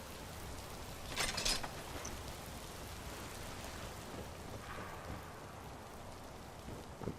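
Steady rain falls outside during a storm, a soft continuous hiss with a brief louder rumble or gust early on and a fainter swell later, with no voices.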